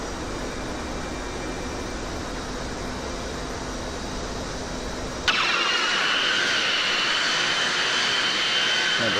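McDonnell Douglas DC-10 jet engines drone steadily in flight, a loud continuous roar that shifts abruptly midway to a brighter, hissier whine, with no talk.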